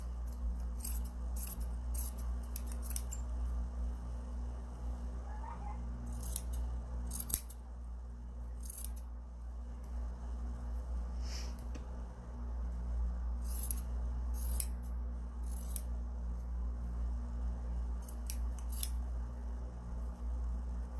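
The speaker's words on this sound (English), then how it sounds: "And I'm going to cut it into 3 strips." Scissors snipping through fabric to cut strips, sharp crisp cuts in quick clusters with pauses between, close and fairly quiet over a low steady hum.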